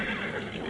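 A horse whinnies in a short, bright burst, close and fairly loud, heard on its own with no talking.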